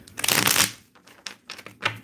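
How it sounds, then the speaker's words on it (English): Tarot cards are shuffled by hand for a reading, a dense riffling burst followed by several short, separate card flicks and taps, close and alone. "Until it stops, like it doesn't want to go in no more, then it means I'm not done shuffling"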